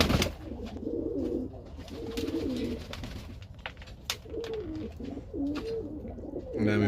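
Pigeons cooing in a loft, several close, repeated low coos in rhythmic phrases over faint background noise, with no talking.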